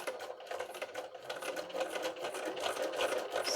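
A sewing machine stitches slowly through layered fabric and plastic, giving a close, steady whirring with a fast, even needle rhythm that runs unbroken throughout.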